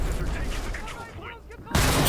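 An anti-tank field gun fires in the World War II shooter game Enlisted: a loud, close, booming blast cuts in near the end over a rumbling wash of battlefield noise.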